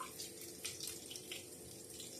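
Water running over homemade butter as buttermilk is rinsed away, a faint steady trickle and splash from a tap into a bowl or sink.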